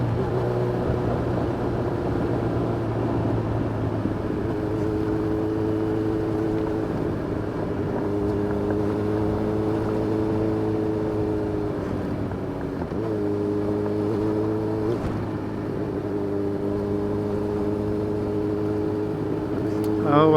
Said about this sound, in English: Taking a sport bike through the forest.